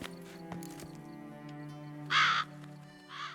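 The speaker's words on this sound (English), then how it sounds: "There's a lot of crows." Crows caw in The Witcher 3: Blood and Wine, with two loud, harsh calls near the end, the first longer than the second, over a steady bed of in-game ambient music.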